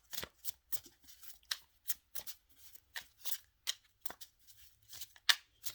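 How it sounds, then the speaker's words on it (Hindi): Brand new tarot cards are handled and drawn from the deck, a run of about fifteen crisp, papery snaps and slides, close and fairly quiet, separated by short silent gaps. "चलें पहला कार्ड निकालते हैं।"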